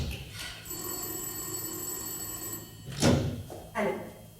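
A telephone bell rings in a sustained trill for a couple of seconds, followed by two quick thumps as the receiver is picked up.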